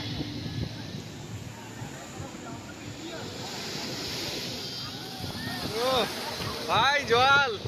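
Sea waves at Udaipur sea beach near Digha roll in as a steady roar with wind buffeting the microphone, and excited voices rise over the surf toward the end.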